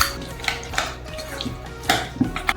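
Ingredients for a devil sauce are stirred in a bowl, with a utensil clinking and scraping against the sides in irregular taps and strokes, close and moderately quiet.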